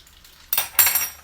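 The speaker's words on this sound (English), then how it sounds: "And my kebabs are frying." Kebabs frying in a pan while preparing a Pakistani meal: a quiet lead-in, then a sudden loud burst of bright sizzling and clattering, with a second surge of sizzle and pan clinks close by.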